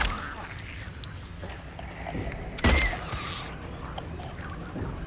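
A gun fired at a monster in Silent Hill 2, one sharp loud shot cutting through quiet game ambience, with a person talking faintly around it.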